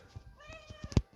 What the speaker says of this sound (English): You hear meowing.